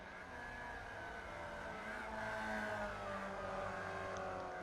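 Formula Vee race cars howl down the pit straight at Phillip Island in iRacing, a steady, buzzing engine drone with shifting harmonic pitch as cars run close together, no voices.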